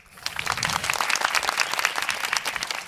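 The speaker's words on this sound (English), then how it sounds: "Please give a big round of applause to Diederik Dewaele, Director of Football at" An audience at a pro football career talk breaks into steady, dense applause, many hands clapping together in a sustained wash that stays fairly even throughout.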